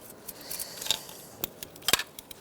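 A wiring harness connector clicking into place on the alternator of a 2012-2017 Hyundai Accent 1.6L four-cylinder, with small plastic rattles and two sharp clicks, close and fairly quiet.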